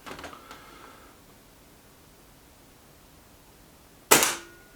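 A single sharp crack from a Reximex Ixia air rifle firing, loud and close, standing alone after a quiet stretch and decaying quickly.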